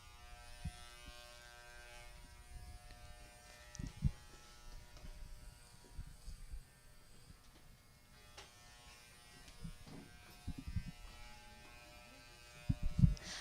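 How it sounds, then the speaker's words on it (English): Electric clippers buzz steadily while students shave a man's full head, a low close drone with occasional bumps and handling knocks, no voices over it. "we are shaving his full head today, and now we have a couple of his students who are here to shave his head"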